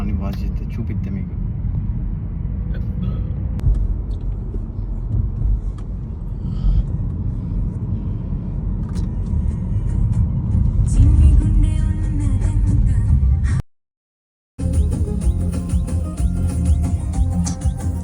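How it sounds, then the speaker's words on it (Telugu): Automatic car wash brushes and soap spray working over a BMW, a steady loud rumbling wash with a brief cut to silence midway, while a person talks throughout. "మొత్తం ఆల్రెడీ ఆటోమేటిక్గా అవే బ్రష్ చేసి మొత్తం ఏమంటారు సోప్ కొట్టి అదే వాష్ చేస్తుంది"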